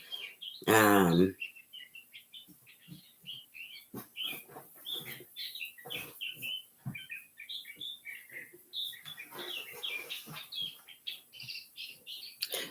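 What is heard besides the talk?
birds chirping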